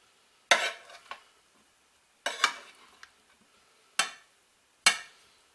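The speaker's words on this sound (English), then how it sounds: "I'm going to mix this all up. Get that seasoned salt dispensed throughout." Food being stirred in a pan to work seasoned salt through it, heard as four separate scraping, clattering strokes of a utensil against the pan, close and fairly loud, with quiet pauses between them.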